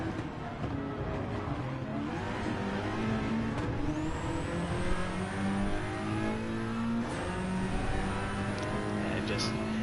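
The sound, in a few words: front-wheel drive race car engine revving in a racing video game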